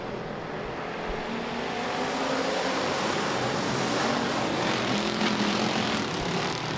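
Sportsman class race cars roaring around the Rapid Speedway track during a night heat race, a loud, continuous engine drone that swells slightly as the field passes, with no talk.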